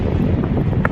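Cool wind at a hill viewpoint in the Kolli Hills roars loudly and steadily across the microphone as a dense, continuous rumble, with no voices.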